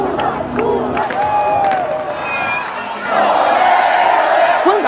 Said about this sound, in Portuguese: multidão vai às ruas para comemorar a terceira vez do ex-metalúrgico no